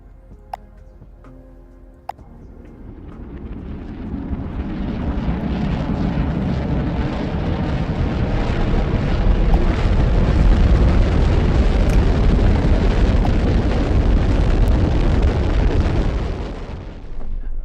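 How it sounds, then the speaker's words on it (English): Rocket launches in the Automation Empire video game, a loud sustained roar that builds after a couple of soft ticks, then holds steady for about fifteen seconds before easing off slightly. "Those rockets are really loud."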